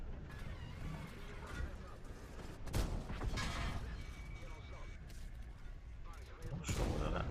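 Tank guns firing in World of Tanks, several heavy booming shots with crashing impacts over steady battle rumble, loud and close, with a voice talking at times.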